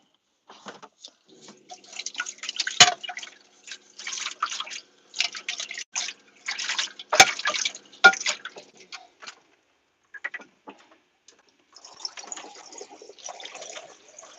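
Water splashes and trickles in a kitchen sink while bowls are washed by hand. Irregular bursts of running water come with a few sharp clinks of the bowls, and there are quieter gaps between them.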